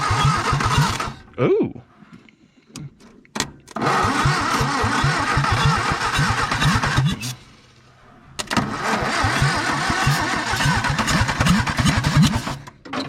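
A 1962 Hillman Minx engine, doused in carburetor cleaner after sitting about 40 years, cranks in loud rapid bursts, catches and sputters, pauses, then cranks again and runs roughly; a short exclamation is heard.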